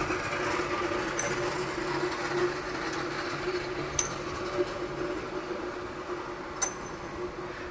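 A large flexo printer slotter die-cutter folder gluer stitcher with Korean-built double stacking counter ejector runs in a factory, giving a steady dense mechanical roar with faint high clicks and a few sharp ticks.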